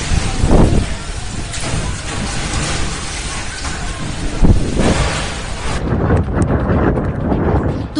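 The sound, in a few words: strong cyclone Amphan winds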